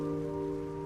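Steady rain falling in the video game Trails Through Daybreak, a continuous even hiss with a low tonal hum running beneath it, no voices.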